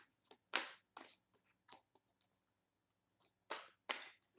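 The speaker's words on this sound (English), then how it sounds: "I'm just going to keep shuffling until we get 3 jumper cards to jump from the deck" A deck of tarot cards is shuffled by hand in quick, irregular bursts of papery riffling and soft slaps, close and alone with no voices.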